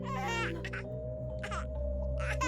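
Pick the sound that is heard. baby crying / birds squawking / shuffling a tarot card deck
baby crying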